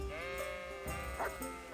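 Sheep in a video game bleat in a steady, wavering drone, a clear nasal cry lasting over a second, followed by a second shorter bleat, close and alone with no talk.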